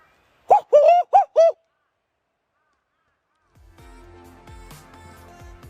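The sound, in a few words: person imitating a bird call heard in Australia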